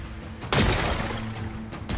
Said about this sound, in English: Gotta blast away some rocks,